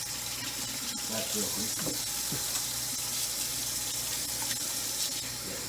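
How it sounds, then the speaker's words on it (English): Tap water running while hands are washed at a kitchen sink during deep dish pizza preparation, a steady close rush with a brief spoken remark. "let me wash my hands."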